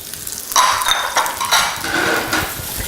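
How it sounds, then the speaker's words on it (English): Onions and mushrooms sauté in rendered bacon fat, with close clinks and scrapes of a utensil against the pan over a soft sizzle and no talking. "the next part is to saute the onions and the mushrooms right into the rendered bacon"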